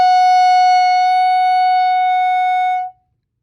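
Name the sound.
clarinet playing an F sharp whole note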